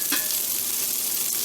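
Hamburger steaks seasoned with granulated garlic sizzling in a frying pan with oil, a steady close hiss of frying with a brief stirring scrape near the start.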